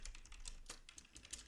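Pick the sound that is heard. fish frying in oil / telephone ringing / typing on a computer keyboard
typing on a computer keyboard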